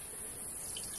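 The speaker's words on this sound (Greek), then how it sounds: "Σε ένα μπολ θα βάλουμε νεράκι" Water runs steadily into a kitchen bowl, a soft, continuous trickle heard close but faint for about a second, with no voices.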